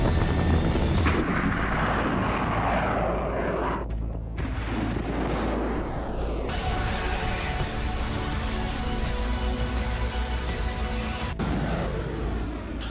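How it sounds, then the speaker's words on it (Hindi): American fighter jets roar steadily and loudly overhead, a dense continuous engine rumble with a brief dip near the start before the sound builds and holds. "एक और मिडिल ईस्ट में अमेरिकी फाइटर जेट्स का मूवमेंट तेज हो गया है।"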